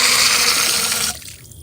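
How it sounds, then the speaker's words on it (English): Water rushes and splashes steadily from the drainage holes of a Degrii Zima Pro pool cleaning robot as it is lifted out of a pool, loud and close, then cuts off abruptly to near quiet. "The water will get drained through the holes right here"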